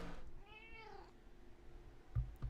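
A cat gives a single drawn-out meow that rises and falls, heard faintly and close, with a couple of soft thumps afterward and no voices.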